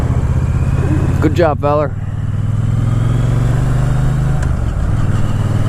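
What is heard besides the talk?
motorcycle riding and weaving around cones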